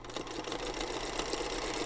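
Sewing machine running steadily while stitching pieced scrappy quilt fabric, a continuous close mechanical whir with a fine rapid needle chatter throughout.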